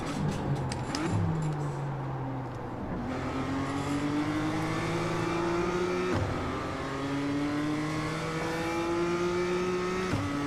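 A BMW M2 race car driven hard around the Tsukuba circuit, its engine revving loud and close in long rising sweeps, with quick drops in pitch at each gear shift.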